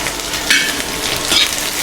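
Chopped onion sizzles and crackles in hot oil with cumin and mustard seeds on a stove, a loud continuous frying hiss with a couple of brighter stirring scrapes, no talking.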